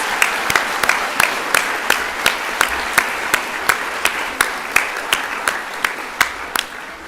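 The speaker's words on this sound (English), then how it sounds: "Let's put our hands together and congratulate all of our prefects for 2026." A school assembly audience at Epsom Girls Grammar School applauds the newly badged prefects: a steady wash of crowd clapping fills the hall, with crisp, evenly spaced claps from someone nearby punctuating it in a regular rhythm throughout.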